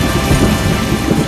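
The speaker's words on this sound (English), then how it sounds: "there were rumbles, there were clouds, there were actual big, fat drops of rain." Steady heavy rain pours down in a continuous broadband wash with low rumbling beneath it, suggesting distant thunder during a summer storm, with no voices.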